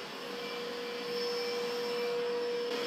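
Dreame X50 Ultra robot vacuum running on carpet at raised suction, a steady close whooshing whir with a thin high whine that swells slightly louder partway through and holds.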